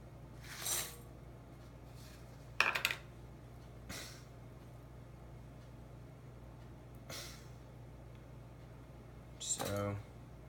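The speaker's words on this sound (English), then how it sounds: "And mix together the butter" A utensil mixing butter in a bowl for magic cookie bars, quiet scraping and clinking in a few scattered bursts over a faint, hushed background.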